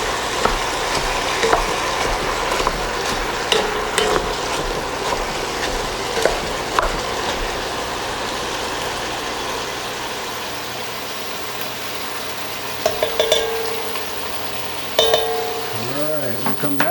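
Hamburger meat frying in a pan keeps up a continuous sizzle, with the spoon now and then scraping and clinking as the meat is stirred.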